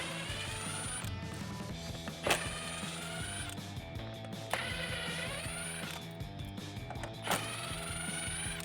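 A ratcheting wrench or driver backs out 8 mm body screws from the front bumper lip of a 2018-2019 Ford Mustang, making close, rapid mechanical clicking with a few sharp snaps, continuous for several seconds without speech.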